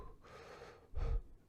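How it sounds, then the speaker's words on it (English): A person breathing close to the microphone: a soft, drawn-out exhale followed by a second, stronger and breathier puff of air. "can you see my breath right now as I'm breathing?"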